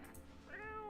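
A single quiet meow from a video game cat, starting faint and swelling into a clear drawn-out tone in the second half, heard alone.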